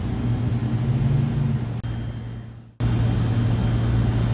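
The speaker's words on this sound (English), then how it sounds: "this motor is spinning backwards" A replacement condenser fan motor on a commercial rooftop unit runs backwards, giving a loud, steady close-up whir and hum with low tonal drone that sags and briefly cuts out midway before surging back at full strength, with no talking.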